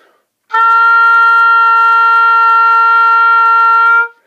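A single sustained oboe B flat, steady and bright, held for about three and a half seconds before stopping cleanly.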